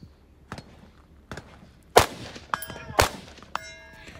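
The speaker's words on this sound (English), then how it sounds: "I'm going to shoot 2 shots at this first plate" Rifle shots at a precision shooting match strike steel target plates, several loud cracks followed by ringing metallic clangs that trail off, with quieter distant reports in between.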